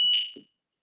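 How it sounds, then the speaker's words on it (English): A home fire alarm gives a single short high electronic beep that fades quickly, with a faint low thump after it and then silence. "Sounds like my fire alarm's going off"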